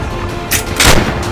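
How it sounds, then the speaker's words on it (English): A cannon fired by a guard in a battle scene, heard as two sharp broadband blasts a fraction of a second apart, the second louder and fuller with a low boom, close and alone with no talk. "One of the guards persisted in firing a cannon"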